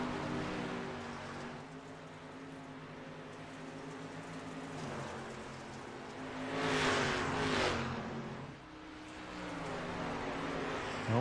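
Dirt race cars at Volusia Speedway Park in the iRacing sim, a steady loud engine drone with revving swells as the pack roars through, one car surging close for a moment.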